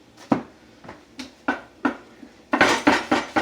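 Knife finely dicing an onion on a cutting board: a series of separate sharp chops, spaced out at first and then quicker and louder near the end, close by with no speech.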